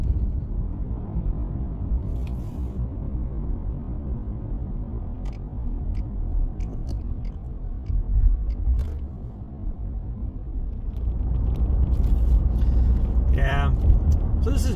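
Steady road rumble of a car on a morning commute drive into Portland, Oregon, a continuous low engine and tire drone that swells a little louder toward the end.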